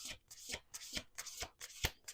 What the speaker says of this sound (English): Last shuffle.